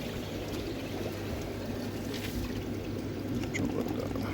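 Water from a Tempest pond pump pours steadily into a garden pond, a continuous broadband splash and gurgle with a low hum underneath, close and constant throughout.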